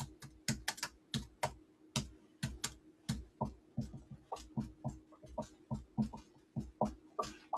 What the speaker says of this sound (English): So I'm just going to type that in.